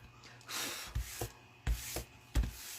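A hand rubs paper gussets for a winter-themed minibook, giving soft, close scrubbing strokes in short irregular bursts, with a few quicker, sharper swipes between quieter pauses.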